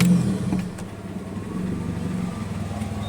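A Mitsubishi Evo engine, just fitted with a new cambelt and water pump, starts up and revs with a rough burst and then settles into a steady, close, even running drone.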